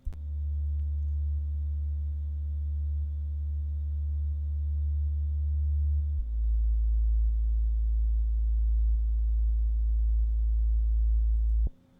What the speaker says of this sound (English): Let's go ahead and move on and play back that bass sound.